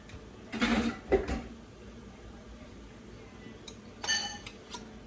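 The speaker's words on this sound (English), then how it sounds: "once those jars are full, we'll throw the lids on there" Glass canning jars and their metal lids clink and knock together in a quiet kitchen, a couple of soft bumps early on, then a brighter cluster of small chinks and rattles near the end.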